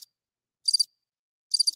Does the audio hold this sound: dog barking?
no